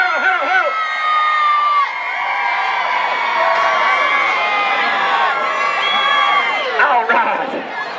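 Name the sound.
rodeo crowd cheering and screaming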